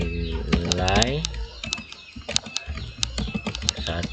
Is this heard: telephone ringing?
no